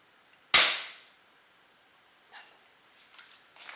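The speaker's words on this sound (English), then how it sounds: "Shoot a bullet in there." A single sharp gunshot cracks loud and close, fading quickly into near silence, followed by a few faint, scattered rustles.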